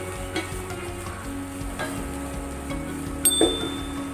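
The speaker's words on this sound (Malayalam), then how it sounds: "നമുക്ക് നല്ലോണം അത് വഴറ്റി കൊടുക്കാം." Finely chopped ingredients sizzle and are stirred in a pan, a steady low frying hiss with occasional scrapes and a sharper clatter near the end.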